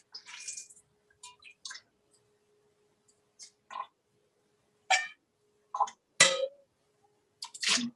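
Dark green kale leaves wrung out by hand, a series of short wet squelches and drips spaced irregularly, close and fairly clear, with no talk.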